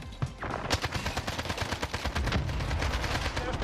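Video game combat with an airstrike and rolling gunfire: dense bursts of shots and booming blasts crowd together loudly and continuously, with a faint voice underneath.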